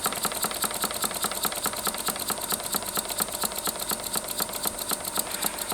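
A small homemade model engine runs on compressed air at about 25 psi, giving a fast, steady stream of rapid clattering beats, busy and mechanical, continuous and close throughout with no talking.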